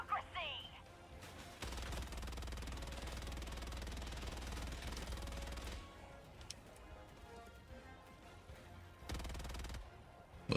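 The EXO-45 Patriot exosuit in Helldivers 2 fires its guns in dense, rapid bursts: a long sustained volley of heavy automatic fire, a pause with quieter rumble, then another short burst near the end.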